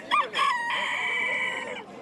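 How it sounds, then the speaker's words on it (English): A rooster crows a loud, close cock-a-doodle-doo, a brief opening note followed by a long drawn-out call that tapers off, heard alone. "Cock-a-doodle-doo, it's the Japanese Year of the Rooster."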